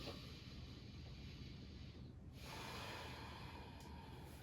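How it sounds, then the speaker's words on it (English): A deep breath taken during an active yoga class, heard as a continuous close breathy rush with a brief dip midway before the airflow resumes, steady and fairly loud against the room. "Take a breath here."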